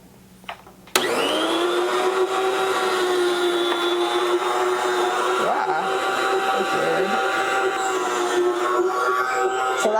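An electric slicing machine runs steadily through homemade chicken lunch meat, a loud continuous motor whine with a sharp start, faint voices talking under it.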